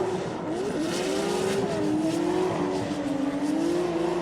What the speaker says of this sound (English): right now he is going on the first qualification run on board his BMW F22